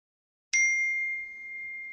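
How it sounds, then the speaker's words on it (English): A text message notification chime rings out once from a Razr+ 2024 phone, a bright ding with a ringing tone that stays up and trails away slowly in a quiet room. "That notification, which is text message."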